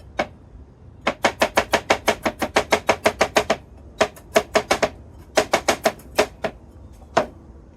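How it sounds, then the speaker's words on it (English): A knife chops a shaped carrot into even slices on a board, giving a close run of sharp, rapid taps in quick bursts with short pauses between them. "the letter M in the carrot that I just chopped up, evenly sliced"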